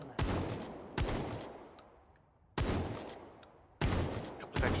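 Several loud bursts of gunfire in a tactical video game match, each a dense crackling volley that fades slowly, coming in an irregular sequence with no talking.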